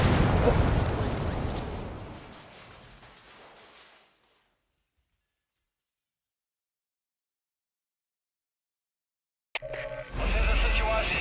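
Separator tank blowing up in Metal Gear Solid V: a loud booming blast with long rumbling debris that fades over about four seconds, then silence, followed by a sudden burst of game sound and radio chatter.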